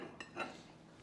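Knife and small spoon lifted from an afternoon tea table set with clotted cream and strawberry jam, giving two brief, quiet metallic clinks about a fifth of a second apart, close by, with no talk.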